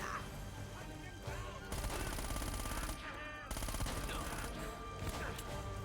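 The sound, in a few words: gunfire from enemies in the video game Uncharted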